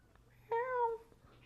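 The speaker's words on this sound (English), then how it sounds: "And here comes my cat." A pet cat gives a single clear meow, short and fairly close, in an otherwise quiet room.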